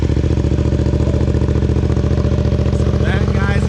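A motorcycle exhaust fitted with a decibel killer idles close and loud in a steady, throbbing, evenly pulsing rumble that holds for the whole stretch.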